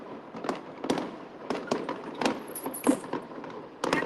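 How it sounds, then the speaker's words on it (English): Fireworks crackle and pop continuously during the final rehearsal of the Darling Harbour display in Sydney, with dense bursts and sharper bangs close by. "Darling Harbour fireworks, the final rehearsal"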